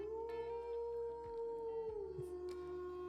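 A wolf-howl stream alert plays, one long sustained howling tone that slowly falls in pitch over a faint steady background, with no talking.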